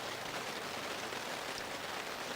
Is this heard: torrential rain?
yes